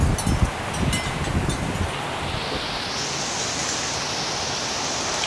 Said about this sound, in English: You can really see that wind.